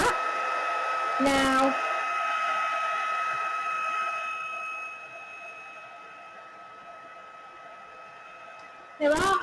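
A hair dryer blows steadily over a watercolour painting of a cute bumble bee, a continuous whirring hum running nearly the whole time, dropping slightly partway through, with a few brief spoken words near the start and end.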